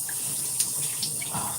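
Shower water runs in a continuous close hiss, splashing steadily with faint brief drips and spatters.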